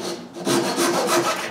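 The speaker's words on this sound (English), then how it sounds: "After ripping a piece of wood to the right width, I cut this into two and sand some pointy tips." A piece of wood being cut by hand into two after ripping to width, heard as close, loud back-and-forth rasping strokes in a regular rhythm of about five strokes with no voices.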